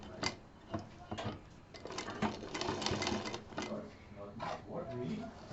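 Sewing machine joining patchwork bed cover pieces in short, uneven bursts of mechanical clatter and ticking, near and moderately loud, with someone talking over much of it.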